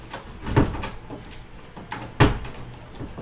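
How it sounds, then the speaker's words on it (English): A door being shut indoors, with two distinct thuds and a faint rattle between them, fairly close against a quiet room. "let me close this door"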